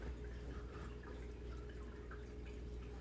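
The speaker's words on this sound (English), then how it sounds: "It's bubbling." A pot of milky liquid bubbles steadily on the stove, a dense, continuous fizzing and popping texture at moderate level with no break across the whole stretch.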